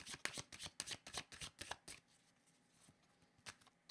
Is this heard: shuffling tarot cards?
yes